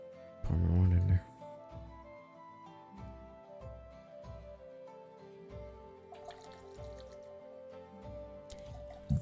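A drink poured into a glass in a short gurgling burst near the start, followed by clinks and soft splashes under background music and voices.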